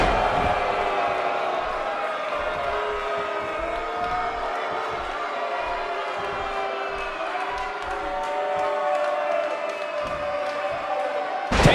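Live wrestling crowd in an Orlando arena at a WWE NXT match between Killian Dain and Danny Burch, a dense roar of cheering and whooping that fills the whole stretch at steady loudness, with a brief spike near the end.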